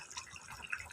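Chilli fish curry (bata fish) bubbling in a covered pot, with soft, close, continuous simmering and popping, fairly faint.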